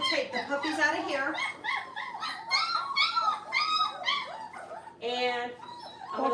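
Several puppies whimper and yip in high, wavering cries that overlap almost continuously, close by, with a person talking over them.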